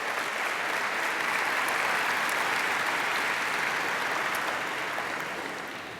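Sustained applause from a large convocation audience at Monmouth welcoming new colleagues, a dense, steady wash of clapping that holds evenly for several seconds before easing slightly at the end.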